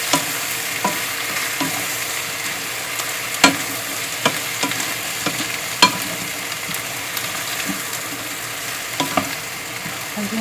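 Buttered shrimp is stirred in a frying pan, a continuous close sizzle with scattered scraping clicks of the utensil against the pan, steady and moderately loud with no talking.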